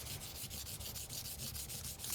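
A Takeda knife is drawn back and forth across a whetstone, making a steady rhythmic scrape of about a dozen even strokes, quiet and close, with a brief louder knock at the end.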